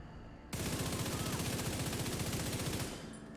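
Sustained rapid automatic gunfire from the video game The Division 2, a dense, loud burst of shots lasting a few seconds, then trailing off.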